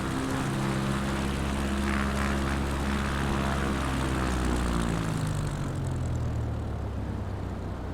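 A propeller aircraft lands in Microsoft Flight Simulator 2024, its engine a loud, steady droning hum whose pitch slowly sinks as it comes down, continuous throughout with no talk.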